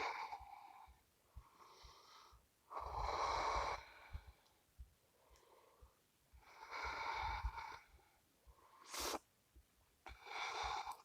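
Someone holding yoga boat pose (Navasana) breathes in a slow, steady rhythm. About eight loud, airy breath bursts come through close to the mic, with short quiet gaps between them and no speech.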